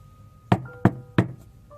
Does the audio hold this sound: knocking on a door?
yes